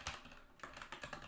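Quick bursts of keystrokes on a computer keyboard, several clustered clicks with a short pause between them, close and fairly quiet.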